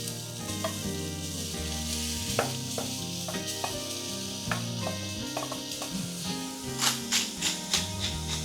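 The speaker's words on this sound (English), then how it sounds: "we'll add the minced meat, which is, again, mixture of beef and pork" A mix of minced beef and pork, about 400 grams, sizzles steadily in a pan for a Bolognese ragù, with a continuous crackling hiss punctuated by occasional taps and stirring scrapes near the end.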